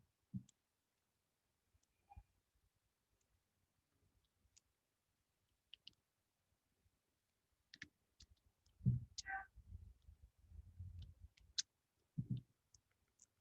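Sparse computer mouse clicks while working in Adobe XD, single sharp taps spread out over quiet, with a short cluster of soft handling noise in the middle.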